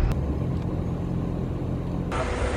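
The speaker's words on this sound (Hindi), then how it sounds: "सच में ज़्यादा ट्रैफिक है" Steady low rumble of road traffic with cars passing, continuous and fairly loud, with a brief shift near the end; no one speaks.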